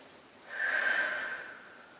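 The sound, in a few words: patient taking a deep breath and exhaling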